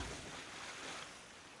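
In Kingdoms of Amalur Re-Reckoning, a character in full plate armor swims, and a steady, soft, broad wash of water and surf fills the short stretch without any talk.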